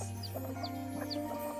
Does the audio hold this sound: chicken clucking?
yes